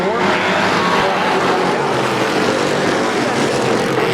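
Dirt track race cars roar off turn four at a speedway in Plattsburgh, New York, a loud, sustained, close engine drone that swells slightly as the pack charges past.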